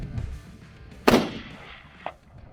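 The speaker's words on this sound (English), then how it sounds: "Shooting much further now, he took another 3 shots to take down the tsesebe bull." A single sharp rifle shot cracks out during an outdoor hunt for a tsesebe bull, loud and close with a rolling echo afterward, followed about a second later by a fainter second report.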